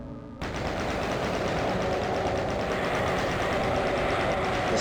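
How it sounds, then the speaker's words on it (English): Rapid, unbroken chain gun fire from DOOM (1993), loud and close, starting abruptly after a brief quiet moment and rattling on steadily to the end. "Chain gun it is then."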